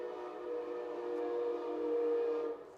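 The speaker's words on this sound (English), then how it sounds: "Sorry, that was the train." A passing train sounds a sustained, loud horn for almost three seconds, swelling slightly before fading, with no talking.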